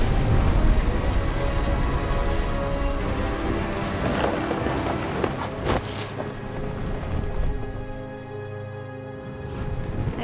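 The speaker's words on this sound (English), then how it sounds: "Thunder sounded much too close and full of angry power" Thunderstorm with steady heavy rain in the video game What Remains of Edith Finch, a continuous loud downpour hiss broken by sharp cracks and rumbles of close thunder around the middle, easing slightly toward the end.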